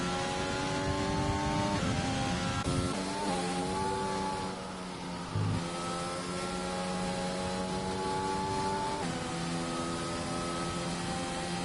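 A racing car engine in the Grand Prix Legends sim at Hungary, holding a steady high whine down the straight with a few rising and falling pitch shifts, close and continuous without voices.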